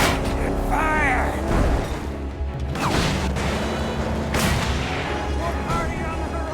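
A heavy black powder cannon called the Talon fires in the Mad Max video game, a couple of deep booming blasts with crashing impacts and rumbling debris, loud and close, mixed with game effects.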